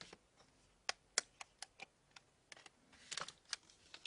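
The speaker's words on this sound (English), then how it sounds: "We'll get our SIM card out here." Small plastic clicks and ticks as a SIM card is pried out of its phone holder, a quiet, irregular run of close taps, bunching together near the end.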